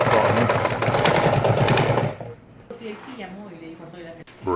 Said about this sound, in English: Not an easy job for this little sewing machine, is it?